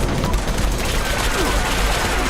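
Sustained rapid gunfire from weapons in the video game Fallout 76, a dense, loud, continuous burst of shots that fills the whole stretch with little pause.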